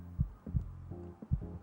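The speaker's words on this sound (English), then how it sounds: "Feel my heart beating in my chest." Heartbeat sound effect in the classroom video game Kimochii Classroom, low thumping beats in paired lub-dub pulses, close and alone with a faint hum underneath.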